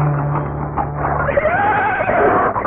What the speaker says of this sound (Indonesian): Dan kuda penarik pedati itu mungkin seperti ketakutan.